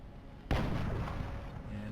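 A precision shot fires in the video game XCOM Enemy Within, a single sharp, heavy blast that hits suddenly over a steady hum and trails off into a long, booming rumble.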